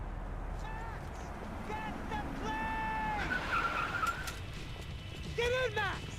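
Car engine and tyre skidding from the video game Max Payne 3, a steady motor drone with squealing skid tones rising over it, mixed under game dialogue and background music.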